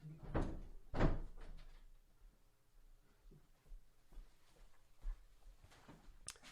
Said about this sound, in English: I'm going to go shut my door.